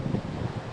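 Cool wind rushes steadily across a hiking trail on the Kumano Kodo in Japan, a broad, constant roar with soft gusty swells and faint rustling, close to the microphone.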